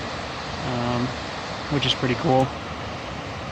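A small cascading waterfall in a forest in the Tobacco Root Mountains makes a steady, broad rushing wash throughout, with someone speaking briefly over it.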